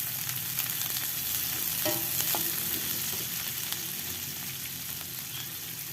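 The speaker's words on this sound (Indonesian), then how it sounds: "Aduk-aduk sebentar." Sliced red and green chilies with shallots and garlic sizzle steadily in hot oil while being stirred, giving a dense continuous frying hiss with occasional scraping clicks from the utensil.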